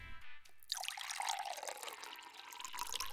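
A metal inhaler canister splashes into water, followed by a steady bubbling, trickling wash of liquid.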